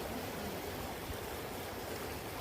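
River stream rushing steadily beneath a bridge at a riverside campsite in the morning, a continuous broadband wash of flowing water with no voices.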